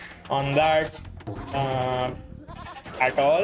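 Sheep bleating in the real-time strategy game Age of Empires 2, a few wavering bleats close up and fairly loud, mixed with talk.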